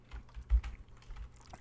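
A few quick key presses on a computer keyboard, soft close clicks and taps in a short run with no voices.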